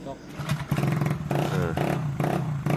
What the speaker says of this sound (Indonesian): setelah kita engkol-engkol, kita hidupkan, dan ternyata ini motor bisa langsung hidup teman-teman